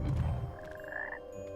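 Frog croaking in Hogwarts Legacy, a short game sound over a low rumbling background, with a drawn-out tonal croak in the middle of the clip.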